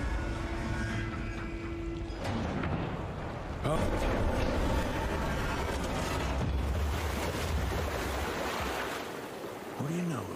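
Water rushes through opened sluice gates in the video game Evil West, a loud, steady roar of draining water that swells partway through and carries on with low rumbling throughout.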